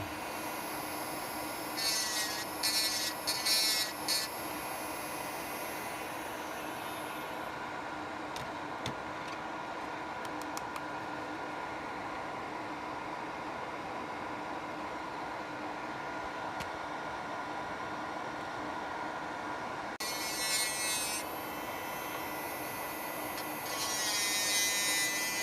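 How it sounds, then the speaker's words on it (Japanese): A rotary router whines steadily while rounding the headlight holes of a freshly 3D-printed front light for a Ginetta G4 open-top model car, a continuous high buzz lasting throughout with occasional brief ticks and surges. "ルーターでライトの穴を丸くは加工したのですが"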